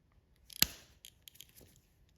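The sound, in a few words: pliers pulling cut rubber off a guitar capo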